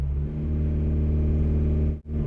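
A car engine in drive with the brake held and throttle applied, loaded up while being checked for a misfire, gives a steady, close droning hum with a brief dip near the end.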